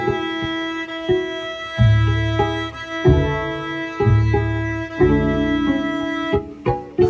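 A cello plays E on the A string as a series of sustained, evenly spaced notes with clear attacks, resonant and close, with no talking.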